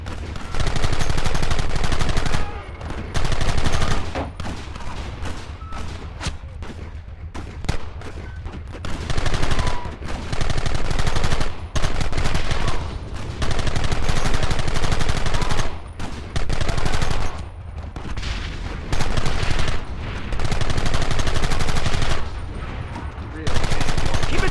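Rapid gunfire in the Western video game Red Dead Redemption, with repeated bursts of rifle and pistol shots crackling in dense volleys, separated by short pauses, loud and continuous across a battle.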